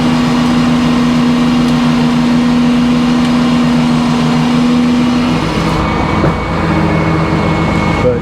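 A sawmill blade sawing oak trailer decking boards, a loud continuous mechanical drone with a steady hum that drops away partway through, leaving rough cutting and engine noise.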